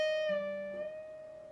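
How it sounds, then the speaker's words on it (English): A single guitar note picked on the high E string at the 10th fret and slowly bent up a full step, a quiet, clean sustained tone that rises gently in pitch and rings alone. "After I've picked it, what I'm going to do is I'm going to bend it up a full step"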